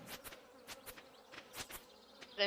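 Buzzing of bees in Stardew Valley, a faint insect drone with repeated short bursts rising and fading across the clip, no talking.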